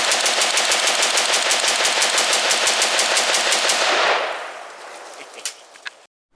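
Loud, fast automatic fire from a Heckler & Koch G36E rifle: one unbroken rapid burst lasting about four seconds, then a decaying echo tail broken by a few scattered single shots before silence.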